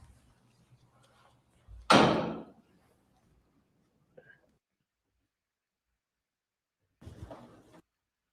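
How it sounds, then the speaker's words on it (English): A door opens onto outside noise, with a loud thump and a swell of ambient sound around two seconds in, then quiet, a faint click, and a second softer burst of outside noise near the end. "you hear that door open,"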